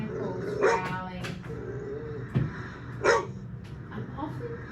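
Cuda, a dog in a state of high arousal, lets out a few sharp barks spaced a couple of seconds apart, with low growling and breathy noise between them, at moderate distance.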